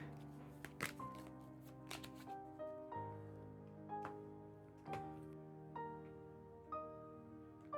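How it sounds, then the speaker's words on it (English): Threat cards for the Arydia board game being shuffled: a run of soft, papery riffles and taps that come in irregular bursts, quiet and close, over a steady tonal background. "we get out these threat cards, 1 through 12, and then we shuffle them to form a threat deck"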